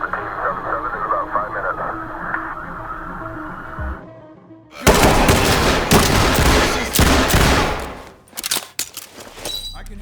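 Gunfire erupts in the SWAT tactical shooter Ready or Not, with a dense volley of loud, rapid shots in the middle section. Radio chatter and talking come before it, and a few scattered sharp bangs follow.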